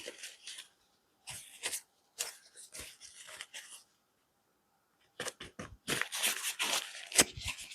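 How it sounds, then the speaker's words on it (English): An office chair clicks repeatedly at a desk where pens, stamps and washi tape are being swatched, giving short bursts of sharp clicks and rustles in clusters separated by quiet gaps, close and fairly loud. "my chair keeps clicking"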